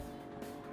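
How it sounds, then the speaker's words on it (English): Tires squeal as a race car drifts through a corner in Gran Turismo 7, a brief, faint screech over a steady engine drone. "A little bit of drift there, a little bit of a drift there."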